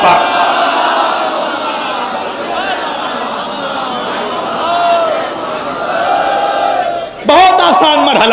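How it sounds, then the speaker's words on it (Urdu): Large gathering at a 28 Rajab religious assembly loudly reciting durood in unison, a sustained roaring chant of many voices with a sharper burst of shouting near the end. "ایک اتنی ہی بلند آواز سے درود بھی پڑھے محمد و آل محمد پر"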